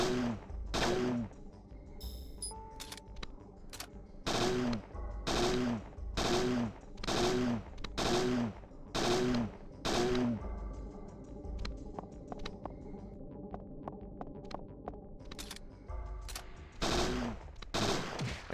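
Repeated bursts of gunfire from the video game Parasite Eve II, loud clustered shots in rapid volleys separated by brief pauses, with lighter clicks and game effects between them.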